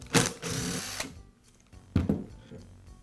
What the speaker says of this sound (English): Now I'll remove the collet and the lock ring.